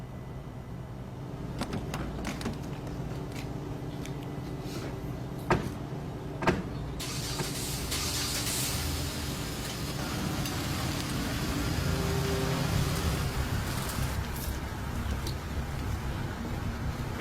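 A car in a tense movie scene: a door thunks shut, then a few sharp clicks, then the engine builds into a steady, louder rumble as it drives off.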